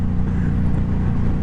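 Suzuki Boulevard M109R cruiser motorcycle under way, its engine a steady, loud low rumble with constant wind and road roar throughout, no voices.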